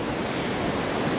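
Ocean surf washes steadily onto the beach at South Padre Island National Seashore, North Beach, as a continuous, fairly loud broadband rush with no breaks and no voices.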